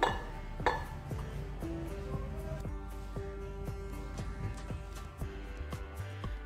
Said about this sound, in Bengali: এই সাবানটাকে আমি এর মধ্যে ঢেলে নিচ্ছি